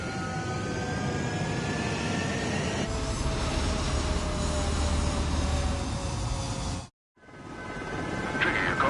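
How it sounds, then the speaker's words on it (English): Fighter jets taking off from a runway in a video game, a loud continuous roaring engine rush with rising whine, briefly cutting out before resuming. "Mage Squadron, head to runway. Golem Squadron, take off."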